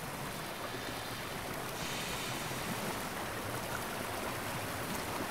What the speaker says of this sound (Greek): Απλώς είναι ένα ποτάμι που μπορούμε να το περάσουμε.